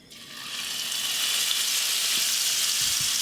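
A one-pound New York steak sizzles in butter in a frying pan in an Alaska cabin kitchen, a steady, loud, hissing crackle that swells right after the meat goes in and holds without talk.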